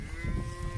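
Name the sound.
cows and calves mooing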